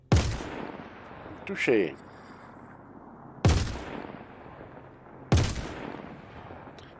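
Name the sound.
Behring FS9 LMG machine gun firing, from video game Star Citizen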